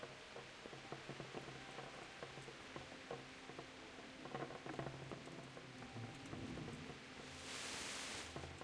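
A storm in the medieval game Kingdom Come: Deliverance at night: steady rain pattering on surfaces with scattered drops and low rumbles, and a hiss of heavier rain or wind swelling near the end.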